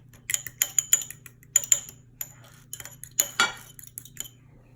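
Two eggs whisked in a bowl with a utensil, giving light, irregular clinks and taps against the side in short bursts, fairly close and with no talking.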